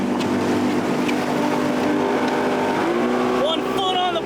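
Off-highway vehicle engine droning steadily while driving outdoors, loud and close with a constant rumble and some whining tones, voices talking faintly over it.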